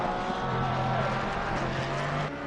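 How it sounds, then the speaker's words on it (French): Race car engines at Zolder in a racing video game, a continuous buzzing engine drone with shifting pitch from an onboard view, steady and fairly loud before dropping slightly at the end. "Faudrait baisser le son des voitures, oui, mais en embarqué, ça c'est assez normal"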